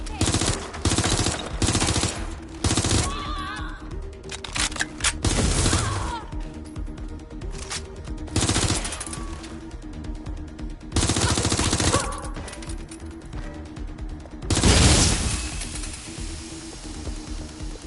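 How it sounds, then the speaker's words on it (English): Gunfire in Watch Dogs Legion: loud repeated bursts of automatic weapon fire with single shots and a few sharp impacts, clustered in heavy volleys separated by brief lulls. "Shots fired! Moving in! Taking fire!"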